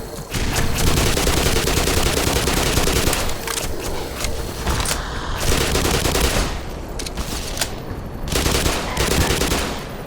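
Heavy sustained automatic gunfire fills the video game Black Mesa with dense overlapping bursts and shots, loud and continuous, briefly easing before picking back up again.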